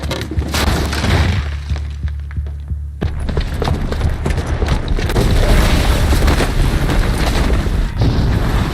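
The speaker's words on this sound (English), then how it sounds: "the booby trap on the bomb downstairs is gonna get set off" A bomb goes off in Horizon Zero Dawn: heavy booming rumbles roll on throughout, loud and close, with a low throbbing hum and scattered crackling debris over them.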